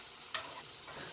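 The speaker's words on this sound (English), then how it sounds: "My pasta is boiling the shit out of itself" Pasta boils hard in a pot with a continuous bubbling, sizzling hiss and one brief louder splash or clatter, close and steady.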